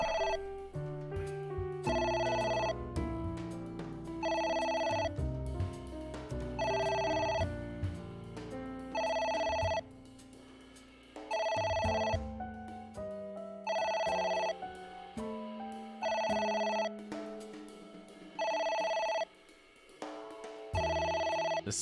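A telephone rings in the video game AI: The Somnium Files, with regular bursts of bright electronic ringing repeating over a low musical background, steady and clear throughout.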